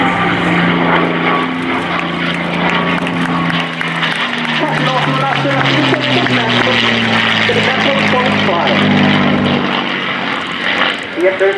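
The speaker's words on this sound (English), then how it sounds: "Time coming in from the right, the P-51 Mustang" A P-51 Mustang propeller plane roars past at an air show, its loud engine drone sliding down in pitch as it passes, with an announcer talking over it throughout.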